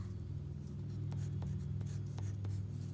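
Marker or chalk writing an equation on a classroom board, a series of short scratchy strokes with brief pauses, close and steady over a constant low room hum.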